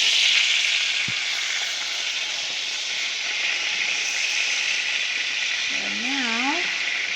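Food sizzles steadily in a frying pan right after being flipped, a loud continuous hiss up close, with a short clunk early on and a wavering whine near the end.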